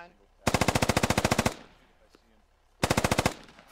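In the video game Squad, two loud, close bursts of rapid machine-gun fire ring out, the first about a second long and the second shorter, with a quiet pause and faint echoes between them.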